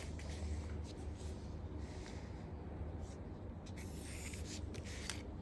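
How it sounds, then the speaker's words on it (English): A pencil draws a line on paper while plotting points from a scale, giving a steady, faint, close scratching that continues for several seconds with no voices. "Then put a point and draw a line like this"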